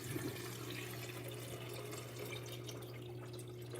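Water pouring from a tap into a countertop water filter: a continuous steady rush of filling water with a low hum beneath, moderately loud and close throughout.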